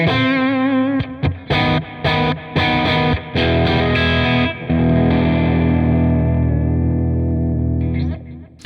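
Distorted electric guitar played through new HW impulse responses, choppy chords and short stabs giving way to a long ringing sustained chord that fades out, loud and saturated.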